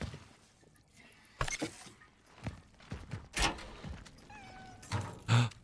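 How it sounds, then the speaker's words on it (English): A cat in the video game Cronos: The New Dawn, several short meows and mewing cries spread across the clip among thuds and other game noises. "Cat."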